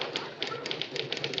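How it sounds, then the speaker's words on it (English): Typewriter keys strike in a quick, irregular run of sharp taps, close and clear, as labels are typed in an office. "you're putting labels in my typewriter"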